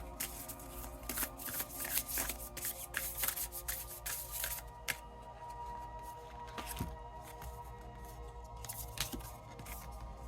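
Tarot cards are shuffled by hand in a rapid series of crisp riffling bursts and soft slaps, close and clear with no talking, before the last card is drawn.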